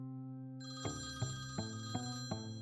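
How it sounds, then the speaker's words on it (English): A home telephone rings in a West Des Moines, Iowa house before dawn, its electronic tone pulsing in a steady, evenly spaced rhythm of about five beats, clear and alone with no voices. "We were awakened by the phone ringing."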